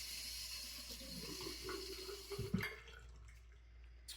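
Water is added to shaving lather, a quiet running trickle and light splashing with a few brief drips and knocks near the middle, set against a faint low hum.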